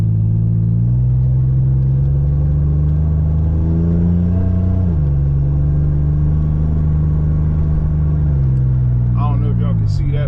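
A Buick heard from the cabin while driving holds a steady low engine drone, and the pitch climbs twice as it accelerates. The hum is loud and constant, with a faint click near the end.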